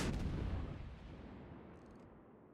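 Naval gunfire in World of Warships: a loud, booming salvo opens the moment, then a long rumbling tail fades out over a couple of seconds, with no talk over it.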